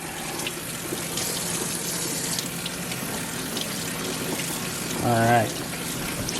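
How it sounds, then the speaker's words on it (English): Tap water running steadily over a raw pork butt in a sink, a continuous hissing splash, with someone briefly speaking near the end. "I'm just going to run this underwater. Just kind of get the debris off of it"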